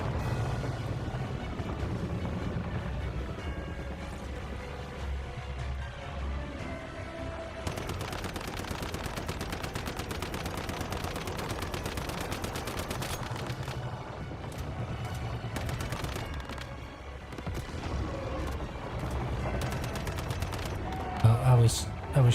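Sustained bursts of automatic gunfire in the survival shooter Once Human, dense rapid shots running for long stretches with pauses between, layered under game sounds and occasional talk.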